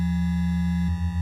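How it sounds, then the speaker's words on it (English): An ArcSyn synthesizer's third oscillator holds a clean, steady sine tone that shifts in pitch near the end and takes on a soft pulsing, with nothing else sounding. "We haven't done anything to oscillator 3. Let's just leave that as a sine wave"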